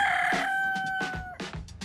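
A rooster and chicken on a farm: a loud, close, drawn-out crow followed by a few short clucks.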